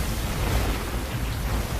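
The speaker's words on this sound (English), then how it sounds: "All fountains of the great deep were broken up, and the rain was upon the earth." Heavy rain of the great flood pours in a steady, dense roar with low thundery rumble beneath, loud and continuous with no voices.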